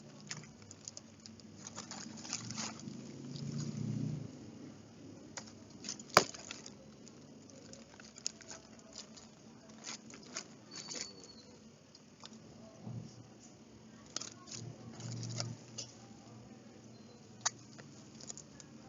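A RAPID X USB rechargeable bicycle tail light is unboxed, with soft irregular rustling, tapping and handling of packaging, close and quiet, with a few sharper knocks scattered throughout.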